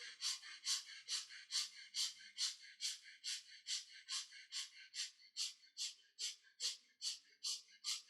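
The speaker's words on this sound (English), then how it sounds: "Quick and short breath through both the nostrils." Rapid, evenly paced sharp breaths pushed through both nostrils during a breathing exercise, about twenty short hissing bursts in steady rhythm, close and fairly soft with nothing else heard.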